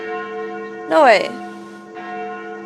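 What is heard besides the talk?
church noontime bells in Sucker for Love video game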